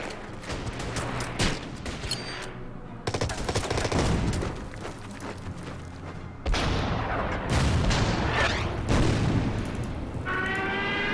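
Battle sounds from the video game Order of Battle, with repeated loud gunshots and booms, bursts of rapid fire and echoing blasts running almost continuously, ending with a high electronic tone.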